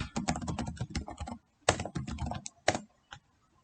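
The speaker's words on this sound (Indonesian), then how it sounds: "Dia ke web browser, kita ketikkan dia google.com." Fingers type quickly on a computer keyboard in close, crisp bursts of clicking keystrokes separated by short pauses, ending with a few isolated key presses.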